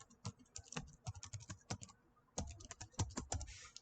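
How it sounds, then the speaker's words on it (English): Keys clatter in quick irregular bursts on a PC computer keyboard, heard up close and fairly quietly, with a short pause midway before the typing resumes. "now we just go onto our internet-enabled PC and type in our"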